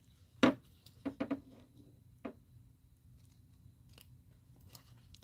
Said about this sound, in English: I'm going to trim them like poorly right now, and then I'll trim again.